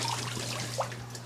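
Water spraying from a fountain nozzle set in a turtle tub for a 100-gallon turtle pond, a steady wash of splashing and trickling over a constant low pump hum, with one brief sharper spurt partway through.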